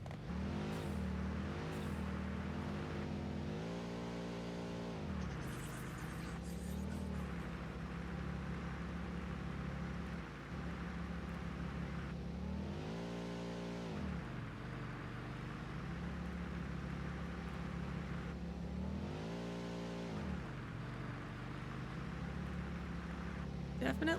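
A vehicle drives in the factory-building game Satisfactory, a steady engine hum with repeated revving surges as it accelerates, with a voice speaking over it now and then.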